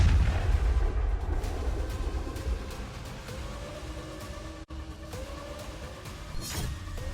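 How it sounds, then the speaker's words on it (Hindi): Distant artillery fire from Russian army shelling in eastern Ukraine rumbles low and steady, with a faint wailing tone drifting above and a few scattered thuds, no voices present. "पूर्वी यूक्रेन में रूसी आर्मी आग बरसा रही है।"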